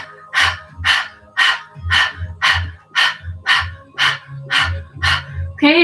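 A group of people panting rapidly like dogs during a Kundalini yoga breathing exercise, about ten sharp, even breath bursts in a steady rhythm, close and loud, imitating a dog's panting.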